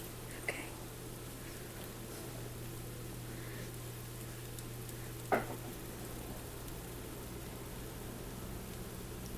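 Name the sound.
pancakes sizzling on the stove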